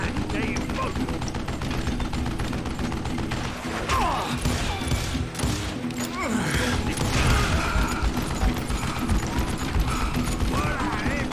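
Gunfire in the Western shooter game Call of Juarez Gunslinger, a dense, continuous barrage of shots and mechanical clatter with a shouting voice over it, loud and close throughout.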